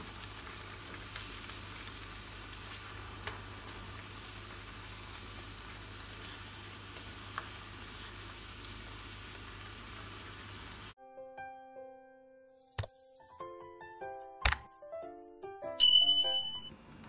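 Eggs added to a simmering chili spice sauce for Indonesian telur balado bubble and sizzle steadily for about eleven seconds before cutting to a bright, melodic chime jingle.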